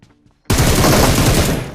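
Gunfire in the mobile game PUBG Mobile, a sudden loud burst of rapid automatic shots that starts after a short quiet moment and runs continuously to the end.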